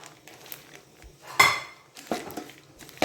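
Sesame seeds and groundnut seeds stirred into a thick, syrupy mixture in a pot over low heat, giving a few scattered scrapes and clinks of a utensil against the pan, with one louder knock near the middle.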